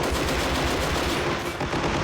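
Rapid machine-gun fire in the Army Men of War video game, a dense, loud, continuous rattle of shots close by, with no talk over it.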